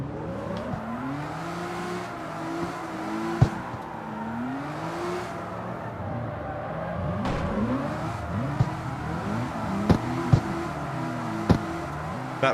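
RB26 engine swapped into a Mazda MX-5 in the CarX Street racing game, revving hard with rising and falling pitch sweeps and gear changes, bursts of tire squeal and a few sharp knocks, no talking.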